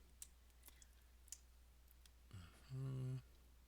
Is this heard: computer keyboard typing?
yes